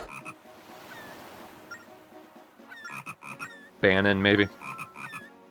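Frog croaking in the handheld Zelda game Phantom Hourglass, one loud buzzing croak near the end, preceded by a brief spoken remark and soft game chimes and ocean ambience.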